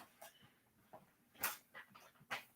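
A dog named Jethro whines and whimpers insistently for a treat indoors, several short high-pitched yelps and whines in an uneven sequence, fairly quiet and close, with no talking.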